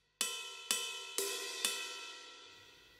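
Four bright metallic bell strikes on a GEWA G9 electronic drum kit's crash cymbal, evenly spaced, each ringing out and decaying with a clear sustained tone.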